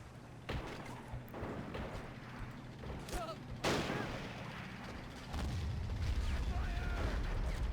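Troops shooting in the video game Men of War: Assault Squad 2, scattered gunshots and heavier booms at uneven intervals, moderately faint, with a rumbling background building toward the end.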